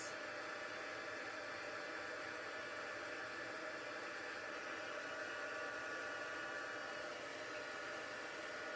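A hair dryer blows steadily and close for the whole stretch, a loud even roar drying a freshly painted shiny green finish, with no talking over it.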